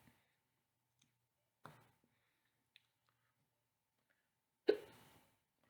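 A single sudden hiccup, loud and close in otherwise near-silent surroundings, preceded by a few small clicks and soft mouth noises.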